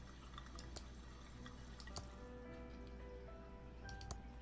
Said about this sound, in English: It's pouring out water.